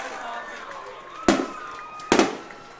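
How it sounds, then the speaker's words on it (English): Two loud fireworks bursts crack out about a second apart over a steady murmur of crowd noise at a varsity high school football game, Culver at Triton. "as we get the fireworks here"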